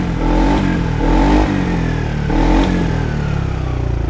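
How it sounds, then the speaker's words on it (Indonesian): A Yamaha Xmax 300 scooter engine, freshly rebuilt, is revved repeatedly as the throttle is blipped, rising in a few loud surges over a steady idle rumble, close up with no voices. "Intinya saat kita tarik-tarik gas, ini mesin ringan secara tenaganya"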